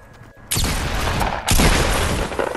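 Bursts of gunfire in the video game Fortnite, CAR rifle shots, hit hard twice in quick succession, loud and close, with no talk over them.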